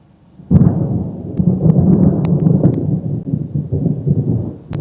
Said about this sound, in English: Lightning just hit it close.